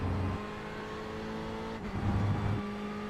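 A Ferrari race car engine drones in a racing video game: a sustained, steady engine tone with slight pitch shifts and a brief swell near the end, heard alone.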